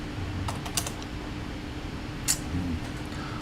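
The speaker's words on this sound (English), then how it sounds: "Typing." Someone types on a computer keyboard, close by: scattered key clicks and a few sharper taps over a low, steady hum, with irregular gaps between bursts.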